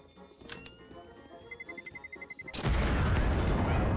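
A bomb explodes in the video game CS:GO as a sudden loud blast that keeps booming to the end. Quieter game sounds, including a rhythmic tapping like footsteps, come before it.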